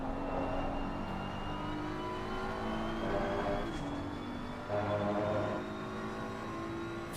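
Race car lapping the Imola circuit, a steady whining engine tone rising and falling through gear changes, heard faintly and continuously throughout without talk.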